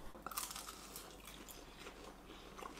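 Crispy cheese-filled nems from a fast-food menu being bitten and chewed close up, with a sharp crunch near the start followed by steady crackly mastication for a few seconds.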